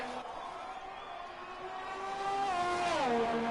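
A Red Bull Formula 1 car in an Italian Grand Prix racing video game drones steadily, with the engine note rising as it accelerates, then dipping sharply and climbing again near the end.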